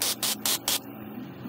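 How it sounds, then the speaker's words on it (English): Isopropyl alcohol sprayed over a circuit board during a Wii console mod install: three quick, loud aerosol bursts in a row, followed by a fainter lingering hiss. "I'm going to spray a little isopropyl alcohol over this board."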